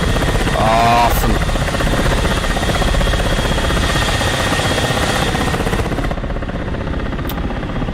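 Ka-50 Black Shark helicopter in Digital Combat Simulator, a loud continuous rotor thrum with rhythmic blade pulses over a whining turbine drone, close and steady throughout.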